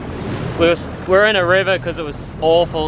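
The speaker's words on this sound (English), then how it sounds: "hopefully you can hear me over this wind" Strong coastal wind off a headland with a big rock rushes and buffets steadily beneath someone talking loudly and close throughout.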